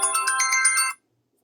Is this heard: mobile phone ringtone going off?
yes